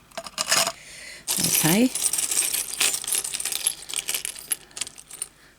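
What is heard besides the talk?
keys dropped into a container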